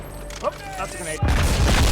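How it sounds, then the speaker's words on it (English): A grenade explodes in the Halo 2 video game with a sudden, very loud boom that holds as a dense roar to the end. Battle chatter and in-game voices are heard just before it. "That's a grenade."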